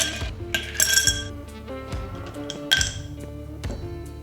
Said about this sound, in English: Ice into mixing glass